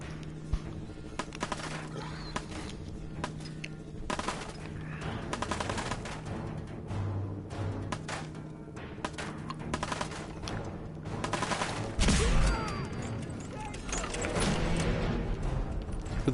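Gunfire in Fallout 4 rattles out in rapid bursts and scattered single shots over a busy game soundscape, loud and close throughout with a heavier blast near the end.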